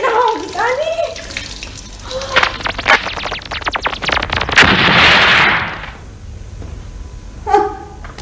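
Water bursts from a household tap after an outage, a loud, gushing rush with sputtering, irregular bursts that settles into a steady stream, while someone speaks excitedly over it.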